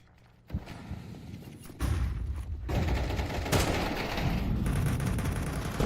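Pistol shots from a Desert Eagle in Counter-Strike during a European Pro League match between Aurora and Alliance: a few sharp reports over busy gameplay noise, growing louder and denser partway through.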